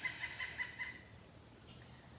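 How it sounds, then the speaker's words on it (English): Faint outdoor summer ambience of birds and insects, a steady high insect drone with soft distant bird calls, quiet and continuous with no voices. "the birds and the insects around me"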